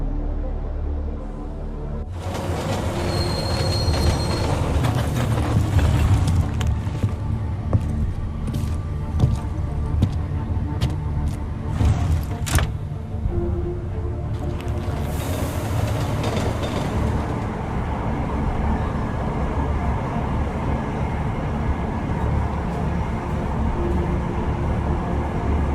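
A train ride in the game Deus Ex Mankind Divided, with a loud continuous rumble and rattle of the rail car, plus scattered sharp clanks and a brief hiss of brakes or doors partway through.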